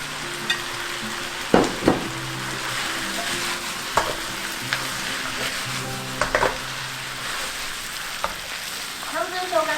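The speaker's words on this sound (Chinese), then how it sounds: "最后加入豆包泥、豆芽菜跟辣椒一起拌炒。" Tofu skin paste, bean sprouts and chili stir-fry in a wok for vegan Hong Kong-style fried rice noodles, a steady close sizzle broken by a few sharp scrapes and clatters of the spatula.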